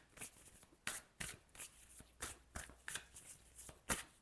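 Tarot cards are shuffled and drawn during a reading, giving a series of soft, crisp riffling swishes and flicks in an uneven rhythm, close and quiet.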